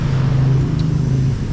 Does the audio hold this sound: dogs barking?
no